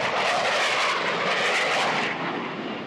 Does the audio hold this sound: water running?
no